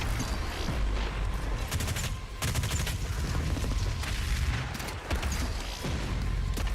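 Continuous rapid gunfire in the first-person shooter Doom Eternal, dense bursts of shots and booming impacts rattling on without pause, loud and close.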